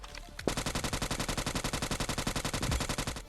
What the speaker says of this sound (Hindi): अब सामने से कुछ गन साउंड आ रहे थे